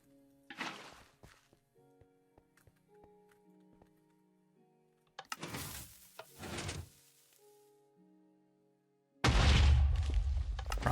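Explosions in Minecraft go off in bursts: a short blast near the start, a louder cluster of booming detonations in the middle, then a sustained loud roar at the end, separated by quiet stretches with faint in-game clicks and tones.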